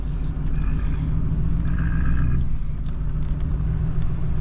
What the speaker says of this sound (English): this is James's T8 360 with the merger.